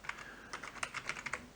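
Quick, light clicking of keys on a computer keyboard as code is typed, a rapid uneven burst of soft taps close by and fairly quiet, with no talking.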